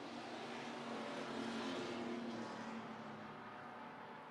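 Bomber-class race cars circle the USA Raceway track, a steady, continuous roar of several engines at moderate distance with no break or standout pass.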